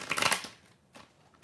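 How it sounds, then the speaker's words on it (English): A brief riffle of a Rider-Waite tarot card deck being shuffled, a quick close papery burst followed by a couple of faint soft taps. "give it a quick little shuffle here"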